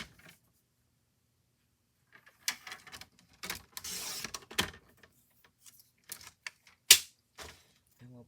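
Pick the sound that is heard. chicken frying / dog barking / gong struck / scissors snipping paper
scissors snipping paper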